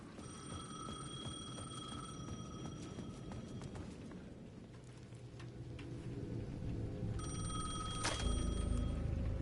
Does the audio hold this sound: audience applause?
no